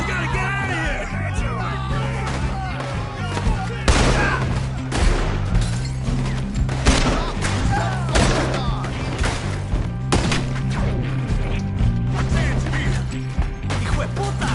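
Gunfire in the video game Red Dead Redemption 2: a steady barrage of sharp shots and thuds mixed with shouting voices over a constant low game soundtrack, busy and loud throughout.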